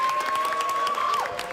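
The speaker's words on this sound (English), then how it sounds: "Everyone applaud Shannon for her great tour guide work." An audience applauds a tour guide at a gathering, a dense patter of clapping hands heard up close, steady and fairly loud throughout the short burst, with a faint tone running beneath.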